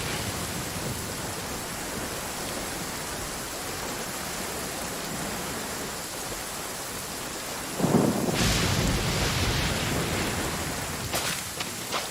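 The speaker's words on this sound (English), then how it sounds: "Lightning! Let's bolt!" A lightning bolt attack in Genshin Impact lands as a sudden loud thunderous crack and rumble near the eight-second mark, after a steady rain-like noise bed, with a few sharp crackles following.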